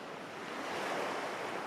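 Ocean waves rolling onto sand, a steady close rushing surf that swells gently toward the middle, with a faint breezy hiss and no talking.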